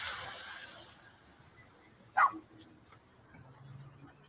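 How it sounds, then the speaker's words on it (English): A single short dog bark rises sharply out of a quiet background, distant and faint apart from that one yelp, with no talk. "Where the dog coming from?"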